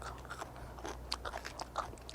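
Edible giant luffa, bitten and chewed, gives a series of faint crisp crunches in an uneven rhythm, close and quiet, no talking.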